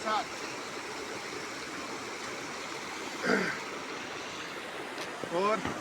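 A river stream flows through a Himalayan forest near Devalsaari in Uttarakhand as a constant, close rushing wash of water, with people's voices breaking in briefly twice over it.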